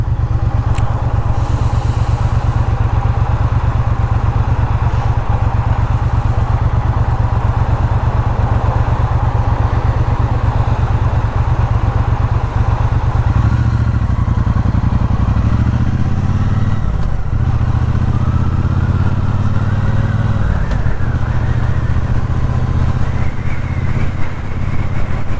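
A Triumph Speedmaster motorcycle rumbles steadily at a low, throbbing engine pitch while being ridden, loud and close, the note shifting as it changes speed partway through.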